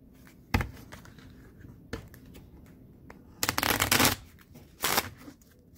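Gypsy Witch fortune-telling cards being shuffled by hand, with a short riffle near the start, a lighter flick around two seconds, then two loud, dense bursts of rapid card flutter, close and without talk.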